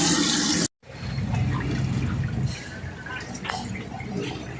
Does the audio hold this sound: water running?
yes